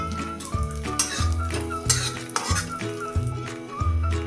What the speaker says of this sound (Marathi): हे काजू आणि बदाम थोडंसं तूप टाकून भाजून घ्यायचं आहे।